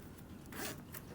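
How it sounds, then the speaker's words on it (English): A zipper pull is slid onto a zipper with a zipper jig while sewing a Lauren bag, giving a short, close zipping rasp that swells in the middle of a quiet room. "I am using a zipper jig to attach my zipper pull."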